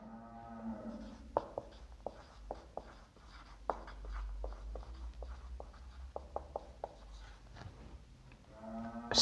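Chalk or marker strokes on a board during a physics lesson, a run of short, sharp scratches and taps at an irregular pace over a low steady hum, close and fairly quiet, with no talking.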